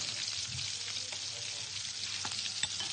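Crushed garlic clove frying in hot oil in a professional kitchen, a steady close sizzle with faint stirring clicks throughout, no voices.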